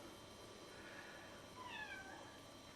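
A house cat gives a faint, drawn-out meow with a rising then falling pitch, distant and soft over a quiet room hum.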